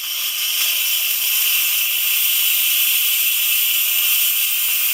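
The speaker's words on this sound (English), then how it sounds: "Paul's going to use a wooden spoon so we're not getting our hands near the hot steam" Steady, loud, continuous hiss of steam venting from an Instant Pot's pressure release valve while cooking green lentil curry, sustained evenly for several seconds with no voices.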